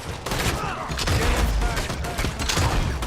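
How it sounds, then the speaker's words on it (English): Rapid, dense gunfire from a Red Dead Online shootout crackles continuously for several seconds, loud and close, a sustained volley of overlapping shots with no pauses. "Somebody else is shooting at me."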